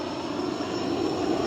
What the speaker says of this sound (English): This is the 5th fucking plane that has interrupted my video.